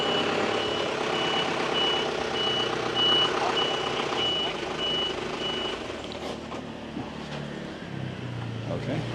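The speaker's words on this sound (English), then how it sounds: "wait for the truck to get through." A truck rumbles through a street in Dalat, Vietnam, with a steady loud engine roar and a repeating high reversing beep running through it, traffic noise around, and the beeping fading near the end.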